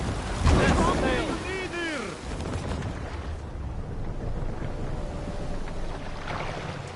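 Sailing ship crossing ocean waves in Assassin's Creed Valhalla, with steady wind and rushing water throughout and a burst of crew shouting near the start.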